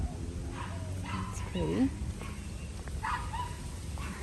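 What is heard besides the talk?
dogs barking and whimpering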